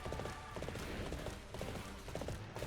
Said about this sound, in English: let's call my horse